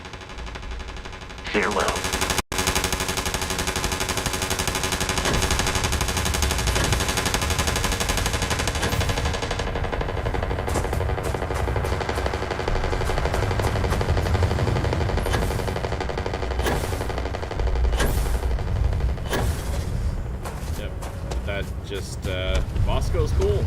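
Starfield video game weapon fire rattles in dense rapid bursts, loud and sustained with a harsh broadband crackle, while a voice speaks briefly over it.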